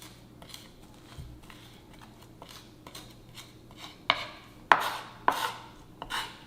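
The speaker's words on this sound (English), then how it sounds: "start mashing it with the side of my knife so that I can create that" Garlic mashed with salt into a paste under the flat side of a kitchen knife on a cutting board, a run of soft scraping and pressing taps that grows into several sharper, louder presses toward the end, close and alone.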